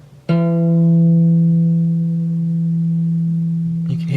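A headless guitar's E string is plucked once during bridge setup. The single clear note rings out and sustains for about three and a half seconds, fading slowly, with a brief rustle at the end.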